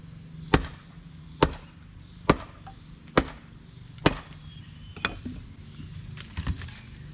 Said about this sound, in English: I simply use the piece of wood to stabilize the chunk, get my axe in there a little bit, and I call it just whacking it.